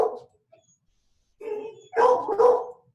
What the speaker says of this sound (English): You guys hear my dog?